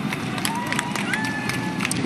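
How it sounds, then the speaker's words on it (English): A dense roadside crowd at the 2023 Berlin Marathon cheers and shouts continuously as runners pass, with whistles and bright calls rising above a steady roar, and a commentator talking. "The crowd's loving this."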